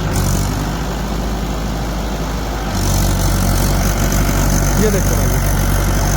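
A Mahindra 575 tractor engine running at around 1500 RPM while working a wet field, a steady mid-pitched rumble that grows a bit louder partway through, with someone talking over it.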